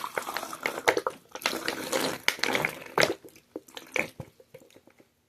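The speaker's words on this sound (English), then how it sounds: "Just pour the water in." Water poured into a container, a short splashing, gurgling flow in uneven bursts with drips, close by and moderately loud, tapering off at the end.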